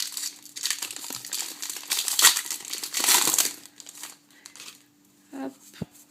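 Crinkly tearing and crumpling of a Pokémon card booster pack wrapper, Dialga pack from a Colossal Regigigas box, close and fairly loud in bursts over the first four seconds, then a few soft knocks and rustles.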